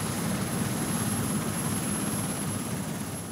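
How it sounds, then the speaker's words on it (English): A helicopter flies with a magnetometer slung beneath it on an aerial survey of the Earth's magnetic field, giving a steady, continuous low rotor and engine drone with a constant thin high whine, unbroken and without voices. "Using a magnetometer slung under a helicopter, Dr. Glenn Penfield was carrying out surveys"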